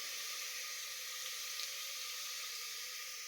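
Okra tipped into a pan of fried onions for sambar sizzles steadily, a bright, even hiss of frying that stays close and constant throughout, with no talking over it.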